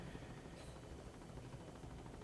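A helicopter drones steadily, heard from on board as a faint, constant wash of rotor and engine noise with no pauses.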